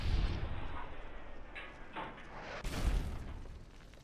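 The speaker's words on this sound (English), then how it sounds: "I could shoot another missile" Video-game missile launcher fires with a low boom, followed later by a louder, sharper explosion burst near the end, over a steady rumbling game backdrop.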